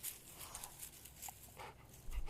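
A dog pants softly and lets out faint whimpers nearby, quiet and close, with a small thump near the end.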